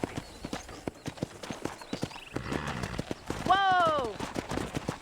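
In the Red Dead Redemption video game, a horse's hooves clop in a steady galloping rhythm throughout, and a loud whinny rises over them near the end.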